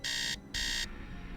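Alarm clock in the Nancy Drew game Message in a Haunted Mansion sounding two sharp electronic buzzing beeps of equal length separated by a short gap, followed by quiet.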